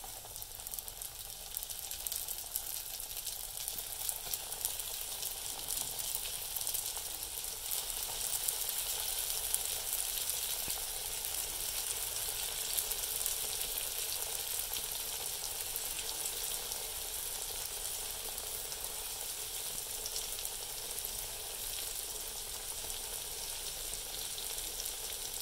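Flour-dusted eggs deep frying in hot cooking oil, a steady bright sizzle and crackle that holds evenly throughout with no voices.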